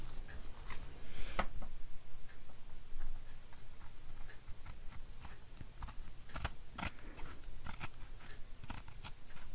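Scissors snipping the end of craft material: several sharp, crisp cuts spaced irregularly among small clicks and handling noises, close up and without talk.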